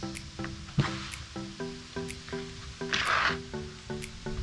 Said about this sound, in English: carburetor cleaner into the top of the fuel injector, which is going to fill it up